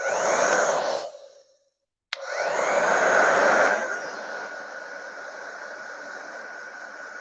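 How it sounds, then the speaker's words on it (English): A heat gun blows steadily while drying a freshly made DIY T-shirt, a close, even hiss that cuts out for about a second and then resumes, fading to a quieter steady whoosh toward the end. "don't want to get too close with a heat gun"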